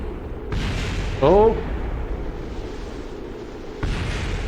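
Booming explosions aboard a spacecraft in Kerbal Space Program, a couple of loud rumbling bursts separated by a sustained roar, with a voice reacting in between.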